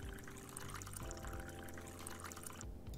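Water poured from a café machine into a glass, a steady continuous liquid rush with a faint trickle near the end, heard close with no talk over it.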